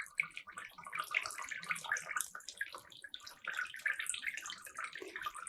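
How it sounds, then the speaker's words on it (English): Water streams out through several holes in a container during a hydrostatic pressure lab demonstration, a continuous soft splashing and trickling at moderate volume. "the speed with which the water exits through the holes decreases"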